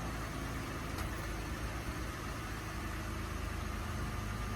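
Jeep Wrangler JK engine idling steadily after a remote start, a low, even rumble held at constant level throughout with no voices.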